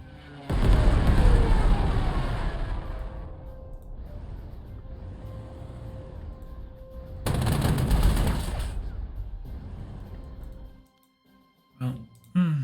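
Stuka dive bombers attack tanks in the strategy game Panzer Corps 2, with loud bursts of gunfire and explosions, a lull, then another heavy blast before the sound cuts to near silence.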